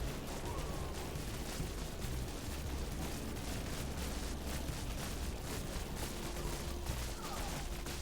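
Continuous dense barrage of artillery and gunfire from the Buggos 2 video game on hard difficulty, a steady rumbling wall of explosions and shots lasting throughout with no pauses.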